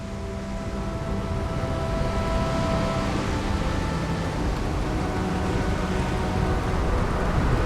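A thunderstorm over Neon city in the video game Starfield brings a steady, heavy hiss of rain with a low rolling rumble beneath it that stays unbroken throughout, with no distinct thunderclap and no voices.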